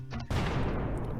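A single booming gunshot sound effect bursts out and rings off in a long, dense tail, loud and close, marking the end of a quiz countdown.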